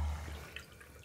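Water poured into a glass at a table, a soft, close trickle with light dripping, brief and faint.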